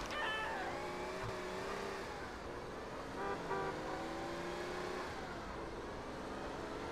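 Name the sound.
car driving in video game GTA San Andreas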